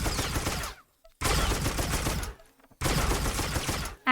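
A blaster-style weapon in Star Wars: The Old Republic fires three loud, chunky bursts of rapid shots, each about a second long, separated by short silences.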